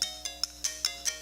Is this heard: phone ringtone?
yes